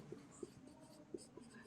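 A pen or pencil writes out a maths solution on paper: faint, close scratching strokes with a few distinct taps as marks are made, quiet throughout.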